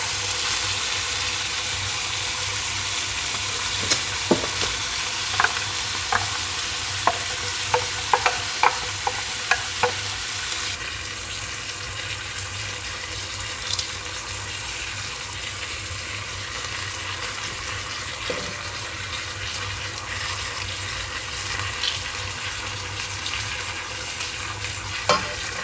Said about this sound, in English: I'm just going to go ahead and brown both sides of the pork chops.